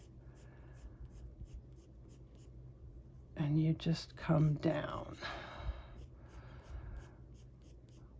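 A pencil colours black hair on paper with steady, soft scratchy strokes, close and quiet, while a voice talks over the middle of the strokes.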